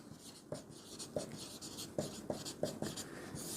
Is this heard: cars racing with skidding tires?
no